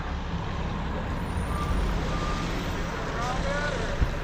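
A concrete truck arrives at a rainy residential job site, its engine rumbling steadily while faint high reversing beeps pulse in the background.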